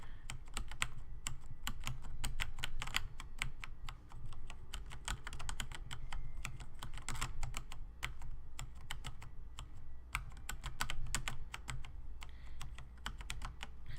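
Rapid, continuous clatter of computer keys pressed to play a music video game, dense irregular clicks running throughout at steady loudness, no voices.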